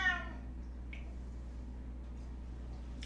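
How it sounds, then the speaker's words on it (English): A pet cat named Jackson gives one short, clear meow right at the start, then falls quiet over a steady low background hum. "So Jackson is my cat, who, it's not a baby crying in the background. It's my cat."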